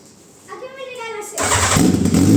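Motorcycle engine fitted in a homemade car, starting up after carburetor cleaning, cranking then catching into a loud, close, rough idle; a voice is heard just before.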